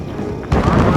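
Anti-aircraft guns firing in the Ace Combat 7 combat flight game, a sudden loud burst of heavy gunfire that cuts in halfway through and continues as booming, rumbling blasts.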